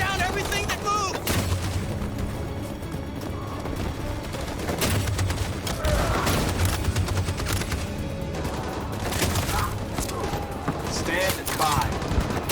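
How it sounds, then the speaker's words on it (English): Machine gun fire in the video game Detroit: Become Human, rapid sustained bursts with sharp cracks and booms, loud and dense throughout, with voices shouting in between. "That machine gun is taking down everything that moves!"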